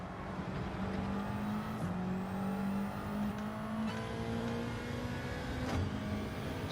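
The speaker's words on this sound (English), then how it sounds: "Just wanted to see how short shifting I could do." A Gran Turismo 7 race car engine drones at high revs, short shifting through the gears with several brief dips and climbs in pitch, loud and steady with no talking.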